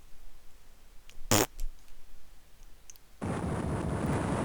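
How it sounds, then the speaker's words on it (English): Dracula's fart in Castlevania: Circle of the Moon, heard as a loud game effect: a short burst first, then a steady, broad noisy blast that holds to the end. "And then Dracula just farts away."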